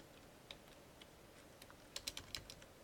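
Keystrokes on a computer keyboard, quiet and sparse at first, then a quick cluster of sharper taps near the end, with no talking.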